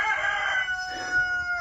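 Backyard chickens crow near a coop, with a rooster's drawn-out cock-a-doodle-doo ringing clearly above soft clucking and faint yard noise, close and fairly loud.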